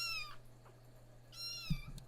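A pet cat gives two clear meows, one at the start and one about a second later, close and fairly quiet over a low steady hum, with a soft bump near the end.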